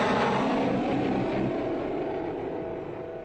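An F-16 fighter jet flies in wintry Alaska, its engine roaring loud and broad, then easing slightly as the aircraft draws away over a few seconds, with no voices.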